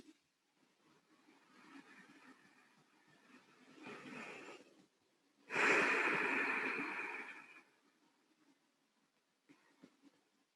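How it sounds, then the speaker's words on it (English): Slow, deep yoga breathing, close and quiet: a long inhale swells, then a louder, extended exhale rushes out, with softer breaths on either side. "So let the breath get really long and slow."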